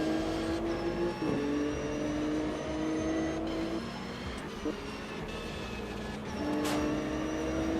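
A wide-bodied BMW race car in the Automobilista 2 simulator at the Red Bull Ring, its engine droning steadily with rising and falling revs and gear changes, moderately loud and continuous, with no talk over it.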